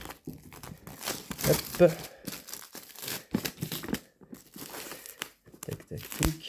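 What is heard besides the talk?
opening the plastic wrapping of the board game Leaders box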